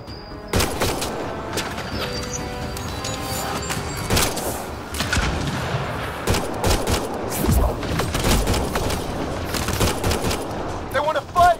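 Rapid bursts of gunfire in the video game Mass Effect: Andromeda, loud overlapping shots and automatic fire in clusters, mixed with game voices and effects.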